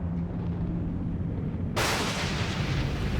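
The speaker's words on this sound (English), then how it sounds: "But it's an isolated storm." A sharp thunderclap cracks suddenly out of a low rumble from an isolated desert storm, loud and close, then booms on with a wide roar.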